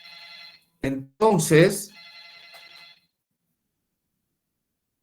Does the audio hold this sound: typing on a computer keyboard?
no